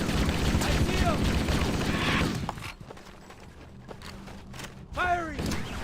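Gunfire from the video game Halo: Combat Evolved: a dense, loud burst of rapid shots over the first two seconds, a quieter stretch with scattered faint hits, then another sharp volley near the end, with voices talking over it.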